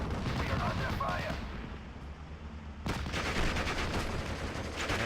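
Gunfire and artillery crackle in the Normandy 1944 wartime game Steel Division Normandy 44, a dense continuous barrage that thins for about a second midway, then swells loud again.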